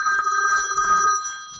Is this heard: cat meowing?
no